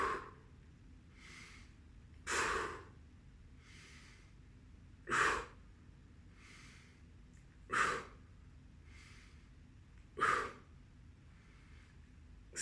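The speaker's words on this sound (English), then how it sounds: "Inhale." Deep, slow inhales repeat in a steady rhythm, four clear breaths spaced roughly two and a half seconds apart, close and alone, during a relaxed home workout exercise.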